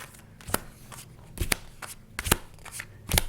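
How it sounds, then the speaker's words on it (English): Playing cards slapped down one by one onto a pile during a kids' game of War, a series of sharp crisp snaps spaced unevenly across a few seconds, close and fairly loud over quiet room tone. "So now we have to put down 3 cards on top of these"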